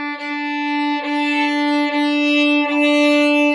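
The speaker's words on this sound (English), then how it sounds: "if I were to play my D string 8 times, a crescendo would sound like this." Sustained bowed notes on a violin's D string, repeated in a steady series of strokes that swell gradually louder as a crescendo, played alone with no talk.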